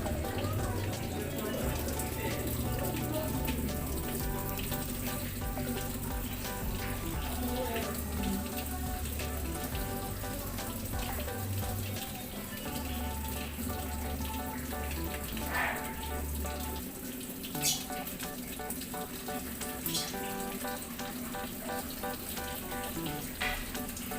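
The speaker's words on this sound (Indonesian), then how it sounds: "Itu kan airnya sudah mulai tergenang, sudah bisa tertampung." Water pours and splashes steadily into the drum of an LG washing machine, a continuous close rushing flow that runs the whole time with faint background sounds over it.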